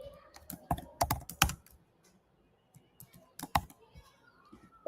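Someone types on a computer keyboard while coding, sending out bursts of crisp, close key clicks, then a pause and another short flurry of keystrokes.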